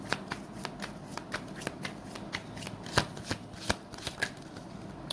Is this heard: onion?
no